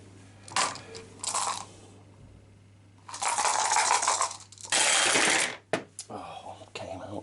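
Dice rattle and clatter in several sharp bursts during a board game session, some rolls short and others longer and louder, with faint voices at low level in between.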